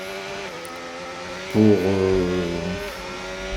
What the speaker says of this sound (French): On est parti pour quelques tours d'essai, pour se familiariser avec ce circuit assez atypique